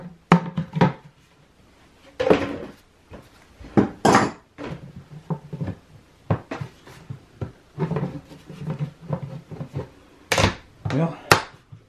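Plastic clatters and knocks as a lid is pushed and fitted onto a bucket in a workshop, irregular close bursts of tapping and scraping with quiet gaps between.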